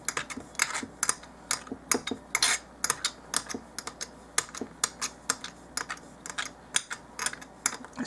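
A small knife taps quickly against a cutting board while chopping meat into tiny doll-size burger patties, giving sharp, irregular clicks in fast bursts with short pauses. The sound is close and there is no talking.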